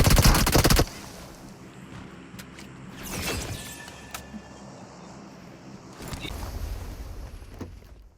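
Gunfire aimed at a shotgun-wielding player in the mobile shooter BGMI: a loud rapid burst opens, followed by scattered single shots and another sustained volley near the end.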